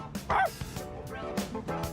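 Koromaru, the dog in Persona 3 Reload, gives a few short, near barks and yips in a quick uneven burst, with a faint whimpering edge between them.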